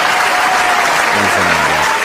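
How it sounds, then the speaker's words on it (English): A burst of steady applause with crowd noise fills the clip, dense and continuous, while a voice briefly speaks underneath. "I'm gonna do a quick hand clap, quick pat on the back."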